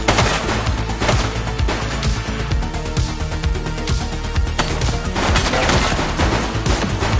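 Sustained rapid gunfire from a suspect during a police shootout in the video game The Precinct, dense loud bursts of shots running continuously with no pauses.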